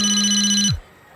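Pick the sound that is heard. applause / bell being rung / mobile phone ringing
mobile phone ringing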